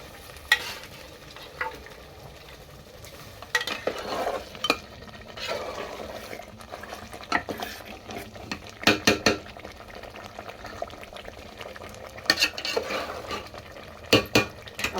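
Spices for a black masala mutton curry being stirred and roasted in a pan, with repeated scraping and clinking of a spoon against metal and a faint sizzle underneath, louder bursts coming in irregular clusters.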